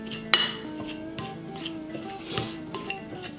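A fork mashes butter crumble topping in a dish, scraping and clinking against the bowl in irregular strokes with a couple of sharper knocks, close and alone without talk.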